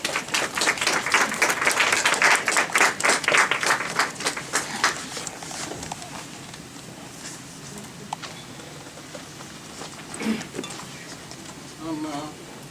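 An audience breaks into loud, sustained applause to welcome speakers and panelists at a Jesuit conference on Canada's Truth and Reconciliation. The clapping fades after about six seconds into scattered claps and quiet room noise.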